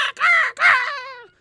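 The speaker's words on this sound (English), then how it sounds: "There was some loud screeching sounds outside, which Screeching seems eels. like raven screechings" Two loud, harsh raven-like screeches heard close, each a rasping call with a falling tail, the second longer and fading out.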